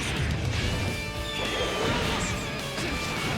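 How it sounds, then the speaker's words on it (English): Answer's Izuna drop command grab in Guilty Gear Xrd Rev 2 lands as a loud, dense crash of layered impacts and whooshes. Heavy slams and bright metallic flourishes keep the sound full and continuous throughout. "his command grab having an extremely satisfying sound to sell the speed and power of the Izuna drop"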